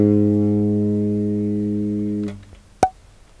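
An A flat on a bass guitar's G string sustains evenly for a couple of seconds, then is damped, and a brief sharp click follows.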